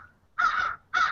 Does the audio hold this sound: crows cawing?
yes